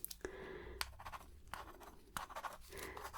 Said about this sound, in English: I'm just going to write here